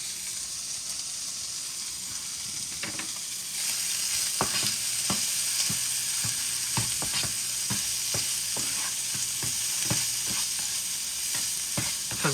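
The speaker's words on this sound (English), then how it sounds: "once you got it to like this kind of state of just stir frying it a little bit" Taco filling stir-fried in a hot pan gives a steady close sizzle, and from a few seconds in a run of sharp utensil scrapes and taps keeps landing against the pan.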